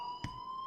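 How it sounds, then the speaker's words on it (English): In the video game Life is Strange, an electronic alarm holds a steady, high, multi-tone ring with a brief soft thump partway through, with no voices. "please turn off that alarm"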